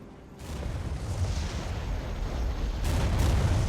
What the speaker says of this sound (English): Good bombing strike.